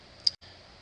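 A single sharp computer mouse click while working in Photoshop, one short bright tick, close and fairly quiet, standing alone with no talk.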